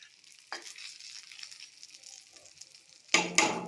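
Stuffed mirchi chillies frying in a pan, a steady close sizzle with a sharp stir or clatter at the start and two louder bursts of sputtering near the end.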